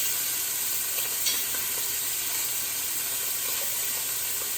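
Beef pieces brown in a hot pan for stew, a steady close, loud sizzle and hiss of frying that runs without pause, with a faint scrape partway through.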